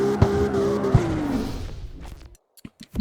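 A car drifting in the video game CarX Street, its engine note sliding under a tire squeal, then cutting out into near silence broken by a few short clicks.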